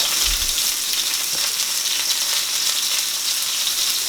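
Butter sizzles and fries in a hot pan alongside a rib eye steak, a steady close crackling hiss with a brief low thump near the start.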